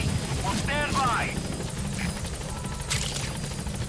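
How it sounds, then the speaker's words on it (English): A support helicopter in the game Metal Gear Solid V arrives at a landing zone, its rotor thudding loudly and continuously up close while a voice speaks over it. "Support helicopter."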